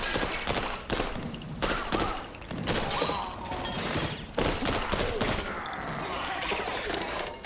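Rapid handgun fire in a video game, a dense run of sharp shots in quick bursts through most of the stretch, loud and close, with brief pauses between volleys.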